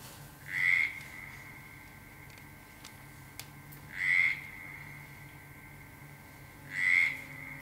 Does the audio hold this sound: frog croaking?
yes